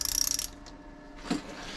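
A ratchet tightens a fastener on a Jeep Cherokee XJ, giving a quick run of close, crisp clicks followed by quieter mechanical handling noise and a brief clunk.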